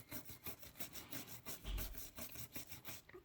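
Steady, rhythmic rubbing on cast steel model tank tracks as they are blackened, a soft scratchy back-and-forth repeated many times at close range with no voices.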